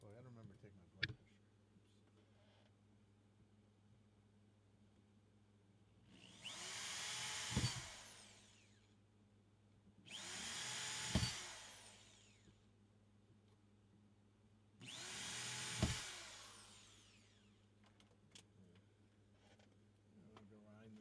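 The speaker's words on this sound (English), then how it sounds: "I'm gonna grind this down a little bit more." A power tool grinds in three separate bursts of about two seconds each during pedalboard building. Each burst rises and cuts off, with a steady low hum and scattered clicks between them.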